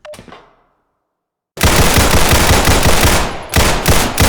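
Rapid pistol fire at shooting-range targets in the game Black Mesa, a dense burst of close, loud shots after a short quiet lead-in, with a brief pause and then more shots.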